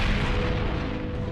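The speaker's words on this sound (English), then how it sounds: "General Putnam, they brought up artillery" Cartoon artillery cannon fire at the Battle of Bunker Hill: a dense, continuous low rumbling roar of booms, steady and loud throughout with no talk.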